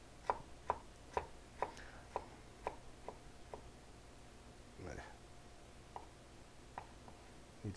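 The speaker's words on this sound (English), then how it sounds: "Need to chop up this bit a little better." A knife chopping ginger on a cutting board while a vegan butternut squash and kale stew is made, about ten sharp, evenly spaced taps with a brief pause before a few more, close and fairly loud.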